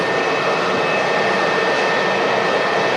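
A Boeing 757 airliner roars down the runway at Manchester Airport, a loud, steady broadband jet-engine rush with a faint high whine, continuous throughout without talk.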